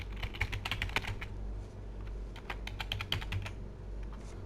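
A password being typed on a computer keyboard, with quick bursts of close, crisp key clicks, a short pause, then another run of taps over a low steady hum.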